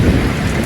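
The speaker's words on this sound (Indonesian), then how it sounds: "Lalu turun hujan yang begitu deras dengan sambaran-sambaran guntur yang tiada henti." Heavy rain pours down in a thunderstorm with a deep rumble of thunder, a dense, loud and steady wash of noise throughout the short moment.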